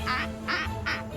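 A duck goose ringtone plays three evenly spaced nasal quacks over a low electronic hum, clear and close.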